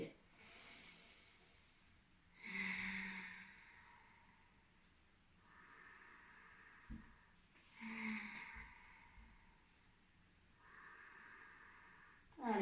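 A series of slow, deep yoga breaths in a Hatha session, soft airy inhales and exhales in a steady rhythm, faint and close in a quiet room.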